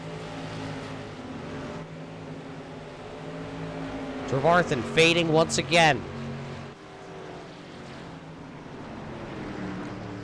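SK Modified race cars sweep past on an oval track, a loud burst of several engines roaring by close mid-way over steady engine drone, with a race announcer talking throughout.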